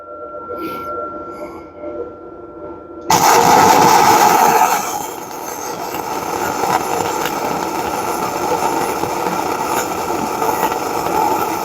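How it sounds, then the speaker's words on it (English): Winbegin Flux 140 flux core welder running a bead, a steady crackling sizzle that starts abruptly after a few seconds and continues for the rest of the clip. "I'll run a bead on this side."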